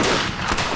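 Guns fired in welcome at the end of a parley, a dense, loud burst of gunfire filling the moment without any speech.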